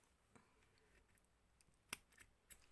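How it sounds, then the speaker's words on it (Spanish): Scissors snip the reinforcement threads of a handwoven Wayuu bag: a few faint, crisp clicks of the blades closing, spaced out in an otherwise quiet room. "estas hebras que nos han servido de refuerzo, el alma, pues ya la podemos cortar"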